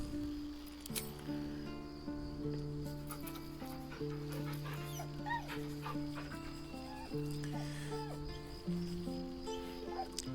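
A dog in the video game Baldur's Gate 3 whimpers and pants softly over a steady bed of sustained game music, with small yelps scattered through the ten seconds.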